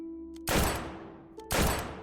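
Two loud gunshots crack about a second apart, each followed by a booming, decaying echo.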